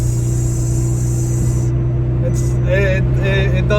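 A turbocharged car with a muffler delete and blow-off valve driving and revving, a steady droning engine note overlaid by rising whistles and sharp pops near the end, heard from inside the car.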